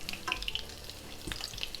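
Waffle sheets filled with minced meat fry in hot oil, giving a steady close sizzle with small crackles and pops throughout, no voices.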